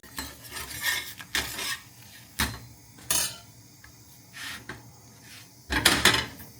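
Millet flatbread (rotla) is flipped on a cooking pan, producing a few scattered clattering scrapes and knocks of a utensil against metal. The bursts are short, close and separated by quieter sizzling gaps.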